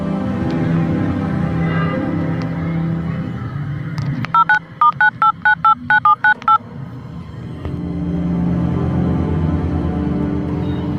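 Mobile phone keypad dialed in a dramatic scene, a quick run of about eight evenly spaced bright tone beeps, fairly loud, set between stretches of low rumbling background.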